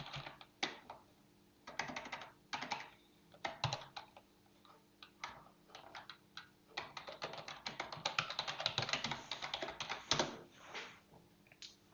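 Rapid typing on a computer keyboard, with bursts of key clicks that pause briefly and then resume, growing denser and steadier toward the end, close and fairly quiet.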